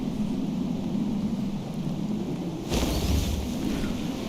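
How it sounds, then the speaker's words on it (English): A storm rolls over the sea in the video game Far: Changing Tides, steady rain and wind hissing before a loud broadband crash of thunder bursts in midway and lingers. "Alright, we made it through the storm."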